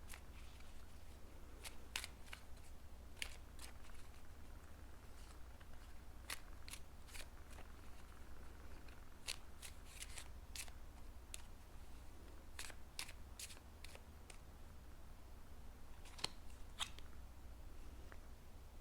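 Tarot-style message cards being shuffled and pulled, a run of sharp, dry card flicks and snaps in irregular bursts over a low steady hum, with no talking.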